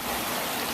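Ashland Creek rushes along in a steady, close wash of flowing water, a brief unbroken hiss with no voices.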